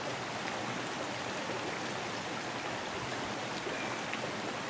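A mountain creek rushing past a Colorado backpacking campsite, a loud, continuous broadband wash of flowing water with no voices.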